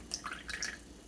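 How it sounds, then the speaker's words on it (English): Brief trickle of water poured into a sourdough starter jar on a kitchen scale, a few soft drips and splashes lasting about a second. "I'm going to add 190 of the water"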